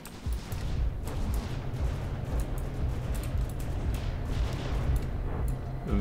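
Dense, continuous barrage of ship weapon fire from a naval battle in From the Depths, the HMS Ragnarök airship against the TURTLELORD, with overlapping booms and rumbling blasts running steadily throughout at moderate loudness.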